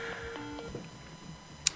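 An incoming call on a radio show produces a few short electronic tones and beeps, faint and brief against a quiet room background, ending with a sharp click.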